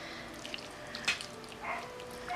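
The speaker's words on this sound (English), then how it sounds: "So our meat is all cooked, and we are going to pour it through a colander." Cooked beef and rendered fat pour through a colander into a bowl, with faint trickling and drips and a few soft splashes in a quiet kitchen.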